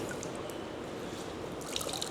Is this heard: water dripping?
yes